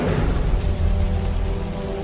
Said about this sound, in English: and there was a heavy rain